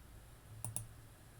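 Two quick, quiet computer mouse clicks on a font menu button in Excel 2016, close together, over a faint room hiss with no talk.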